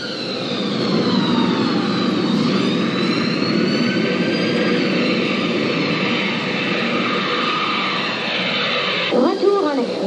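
A steady, loud cabin drone from an airliner's engines in flight, with a constant roar and whine throughout, while people talk over it.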